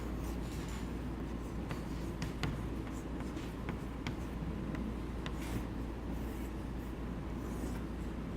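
Marker or chalk scratches on a classroom board during a chemistry lesson, coming as irregular short strokes and taps over a steady background hum, with no voices.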